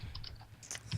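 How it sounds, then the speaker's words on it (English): Rapid keystrokes on a computer keyboard clatter in a quick, uneven burst of clicks, heard faintly from across a room. "I hear the keyboard getting pounded over there"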